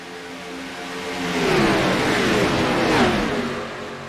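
Stock race cars in a NASCAR Xfinity Series racing video game accelerate together, engines rising in pitch through the gears with overlapping whining tones, loud and building then easing, no talk over it.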